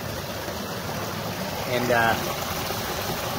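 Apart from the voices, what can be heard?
water running and dripping at a micro hydro intake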